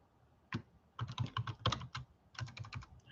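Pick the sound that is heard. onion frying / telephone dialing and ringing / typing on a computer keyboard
typing on a computer keyboard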